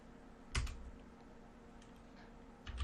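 A short command typed on a computer keyboard, a few quick close key taps with a louder strike at the start and another at the end over low room hum.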